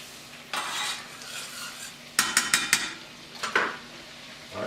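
A roux of flour and fat being stirred in a pot, scraping and clinking in short bursts, a quick run of four sharp scrapes in the middle, then a few more spaced strokes over a faint sizzle.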